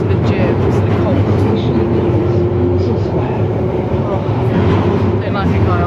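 Inside a moving London Underground tube train, a constant heavy roar with a droning hum and scattered rattles, voices murmuring faintly beneath the din.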